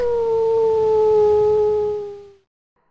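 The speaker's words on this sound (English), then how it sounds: "he heard a pack of jackals howling in the forest" One long, loud, sustained howl holds a steady pitch that sags slightly before cutting off, followed by a moment of silence.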